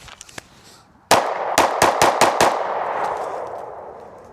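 A Sig P365 Macro Comp pistol fires six sharp, loud shots at close range, one alone and then five in a quick string, with the report ringing out and decaying after the last shot.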